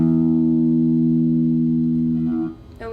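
A single low guitar note from the open low E string rings out steadily for over two seconds, then fades, with a faint pick noise at the end.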